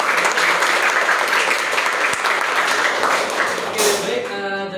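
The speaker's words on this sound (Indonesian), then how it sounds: "Oke, kita berikan aplaus." A classroom audience gives a dense, steady round of applause that lasts several seconds and then fades out, with a voice briefly audible at the end.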